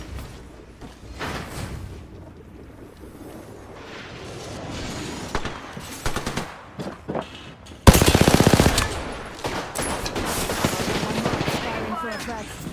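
Rapid automatic gunfire from the video game Apex Legends rattles in repeated bursts, swelling into a loud, dense barrage partway through, with voices faintly mixed in.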